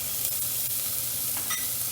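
Onions and garlic sizzle steadily as they brown in a pan for lasagna, a dense, constant frying hiss with light stirring scrapes and no talking.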